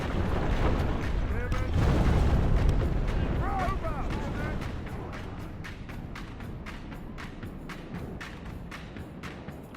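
Siege artillery in Medieval 2 Total War hurling rocks at castle walls during a battle for Paris: rumbling impacts and crashing booms build early, then a run of sharp cracks and clattering debris fades out while a voice speaks over it.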